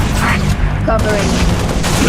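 Turret gunfire in the Halo Reach campaign on legendary difficulty, dense sustained volleys with booming impacts loud throughout, and a voice speaking briefly over the battle.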